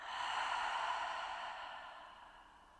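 One long, slow exhale after a deep breath during a guided meditation, airy and close, fading gradually over nearly three seconds with no talking.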